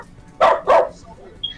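A dog lets out two quick, sharp barks close by in a quiet room, then goes silent.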